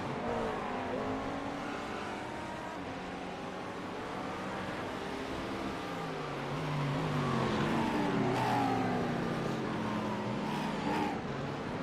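Race cars lapping the Red Bull Ring in a racing game, a Mercedes among them, with engines droning and shifting pitch continuously, swelling louder toward the end as cars come closer.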